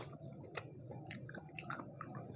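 Close, wet chewing of cockles from a Thai spicy seafood salad, soft squishy mastication with a few brief crunchy bites, steady and without talk.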